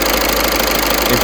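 A 2012 Seat Altea's CAYC diesel engine idles with a steady, close, loud drone and a faint rhythmic knock, running alone and unbroken throughout.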